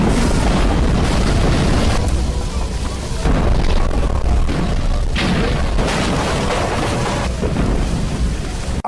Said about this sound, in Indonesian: Mahendra bahkan sempat nekat menggunakan beberapa bom rakitan untuk memusnahkan mereka